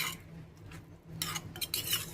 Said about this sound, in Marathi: हे पहा, संपूर्ण एकजीव करून घ्यायचं आहे